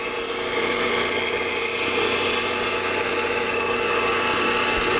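A spindle gouge is held against a bench grinder, giving a loud, continuous, close grinding whine and hiss that stays steady throughout with no pauses.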